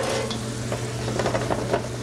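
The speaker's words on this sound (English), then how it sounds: "We're just going to sear those a little bit. You can hear that going. Just sear those in that olive oil." Fresh tomatoes searing in olive oil for tomato and bread soup, a loud continuous sizzle and crackle up close with light stirring, no voices.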